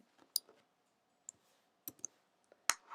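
Computer mouse clicks at a desk, a few sharp isolated taps scattered irregularly over a few seconds, quiet and close, with no talk.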